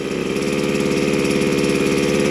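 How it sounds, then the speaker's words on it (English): A brand-new Wild Badger Power 4-in-1 engine idles while warming up on a new choke, giving a steady, close, loud mechanical putter with an even rapid pulse and no voices. "brand new engine, so we gotta let it warm up a minute"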